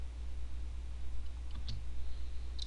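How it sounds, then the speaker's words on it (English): A single faint mouse click in an Excel spreadsheet, a short sharp tick near the middle over a steady low background hum, with a second softer tick toward the end. "I'm just going to click on average."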